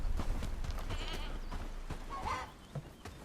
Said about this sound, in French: Il y a une chèvre aussi.